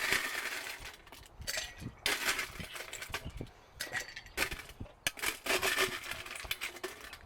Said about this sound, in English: And now we add the ice.